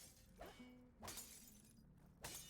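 Three sharp shattering smashes of breakable objects in a video game, spaced roughly half a second to a second apart, each a bright crash with a quick decay over a low steady game background, no talk.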